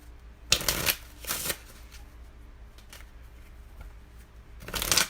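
A deck of tarot-style cards being riffled and shuffled, three sharp crackling bursts near the start and end with quieter card rustling in between, close to the mic with no speech.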